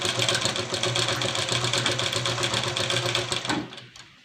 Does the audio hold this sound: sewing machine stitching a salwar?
yes